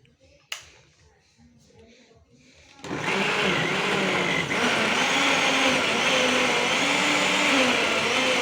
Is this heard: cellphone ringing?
no